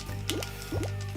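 Bubble sound effects from a Sega 32X video game: a few quick rising bloops in a short burst over a steady low game hum.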